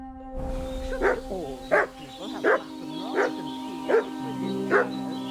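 A dog barks in the medieval open-world game Kingdom Come: Deliverance 2, six evenly spaced barks over a steady ambient hum and background music.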